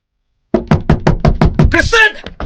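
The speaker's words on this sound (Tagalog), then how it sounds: "bigla siyang nakarinig ng malakas na katok sa pinto" Loud knocking on a door, a rapid series of about seven heavy raps starting abruptly after a short silence, with a voice breaking in near the end.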